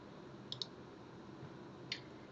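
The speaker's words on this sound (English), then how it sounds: "You'll want to go ahead and double click on that." A computer mouse clicks quickly twice, then once more a moment later, faint and crisp over a quiet background hiss.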